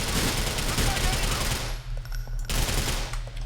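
Rapid automatic gunfire rattles in a dense, continuous burst during a Grand Theft Auto IV shootout, then breaks into a few scattered, sharper single shots, loud and close.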